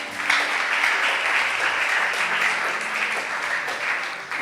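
A church congregation at a Sunday service breaks into sustained applause to acclaim the Lord, a dense, loud wash of clapping from many hands that carries on without a pause.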